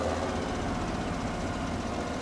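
Fendt 900 Series tractor engine in Farming Simulator 17, a steady, loud low rumble with an even mechanical drone holding throughout, no talk.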